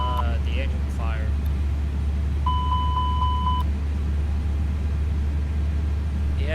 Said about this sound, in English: I forgot to check the engine fire alarm